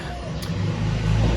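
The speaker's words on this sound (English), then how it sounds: "bear with me, there's a bit of traffic" Road traffic passes nearby with a steady, broad engine rumble that grows louder toward the end.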